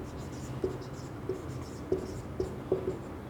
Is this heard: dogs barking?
no